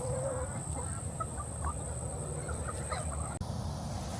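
Chickens on a farm clucking and murmuring close by over a steady low rumble of background noise, with a thin constant whine running throughout.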